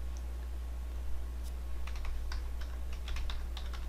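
Computer keyboard typing, close and fairly quiet, with irregular bursts of key clicks over a steady low hum, no voices.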